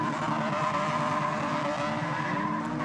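A crosscar spins donuts on a partly wet track, its engine droning steadily and loud throughout with a rising, whining tone and tire scrub, nearby and continuous with no pauses.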